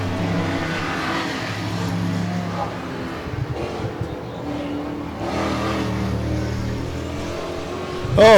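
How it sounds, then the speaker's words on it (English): Straight-piped V8 stock cars race in New Zealand Stockcar Teams Championship qualifying, engines droning and rising in pitch as they pass at a distance, with a sharp loud surge right at the end. "But don't those V8s sound nice with the straight pipes?"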